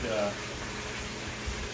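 Water flows through an aquaponics grow bed siphon with a soft, steady rushing gurgle, fairly quiet and continuous across the short stretch.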